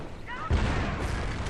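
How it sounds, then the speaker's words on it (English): A single heavy anti-tank gun shot booms close and loud in a World War II video game battle, its thud and rumble rolling on under the game's background noise. "takes an AT gun shot right to the foot"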